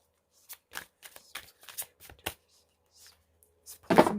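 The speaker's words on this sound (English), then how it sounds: "Let's pull some cards." Tarot cards are shuffled by hand in a string of crisp, close riffling bursts and soft slaps, each one short and separated by brief pauses, ending in a louder, denser flurry.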